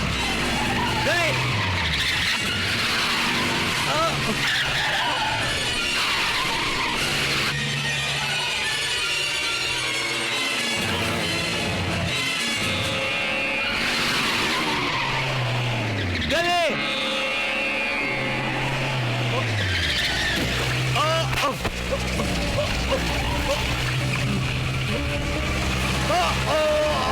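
A car skids under hard braking in a Hindi-dubbed movie scene, with long tyre screeches and engine roar layered among urgent shouting voices and dramatic noise, loud and continuous throughout.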